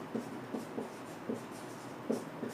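Chalk or marker scratches across a classroom board while a Class 7 maths exercise is worked out, making short, rhythmic writing strokes in quick bursts, close and fairly quiet.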